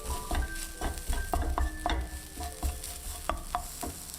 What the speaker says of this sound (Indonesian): Masukkan bumbu halus, lalu aduk sampai aromanya keluar.